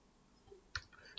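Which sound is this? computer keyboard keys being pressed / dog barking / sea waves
computer keyboard keys being pressed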